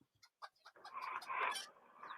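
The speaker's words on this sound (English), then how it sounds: "Georgie's chickens are giving chicken song or egg song." Backyard chickens clucking an egg song, a few short clucks and then a louder sustained cackling run. Moderately distant and fairly faint, with no talking.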